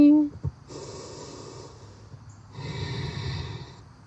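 A person doing an outdoor yoga flow on a field breathes audibly: a sharp nasal snort-like inhale at the start, then two long, airy exhalations, close to the microphone with no talking.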